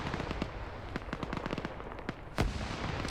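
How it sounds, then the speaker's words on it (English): Grenade blasts and rapid gunfire in a PvP shooter match crackle as a dense string of sharp, distant-sounding pops and bursts, with one heavier boom late on, all fairly quiet and with no talking. "Swola throwing more grenades. They're landing on the rear."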